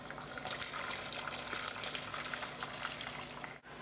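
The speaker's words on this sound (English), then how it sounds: "To this, I'm going to strain the stock that we've made." Turkey stock strained into a pan of roux and turkey drippings, a steady soft pouring gush of liquid with faint sizzling, continuous and close, ending abruptly.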